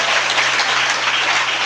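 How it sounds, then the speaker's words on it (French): A church congregation cheers and applauds loudly during a deliverance service, a dense, continuous wash of clapping and shouts filling the room. "Est-ce que quelqu'un peut acclamer très fort pour Jésus?"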